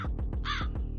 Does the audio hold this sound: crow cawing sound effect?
yes